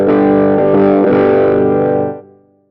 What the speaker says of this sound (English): If I keep my heel down, you'll just hear heel down wah pedal tone.